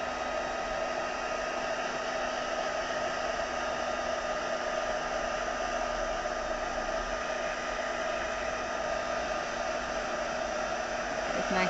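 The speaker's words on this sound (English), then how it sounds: "I'm still on my other heat gun because I've not plugged the other one back in" A heat gun blows a steady, loud rushing whir with a faint tonal hum as it dries ink on a craft project, continuous and close with no speech.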